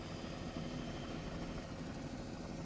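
A helicopter flies over the line of the Fosse Way, a Roman road crossing open fields, its steady low rotor drone thrumming continuously at a moderate distance.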